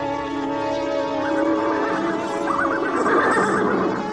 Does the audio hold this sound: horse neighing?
yes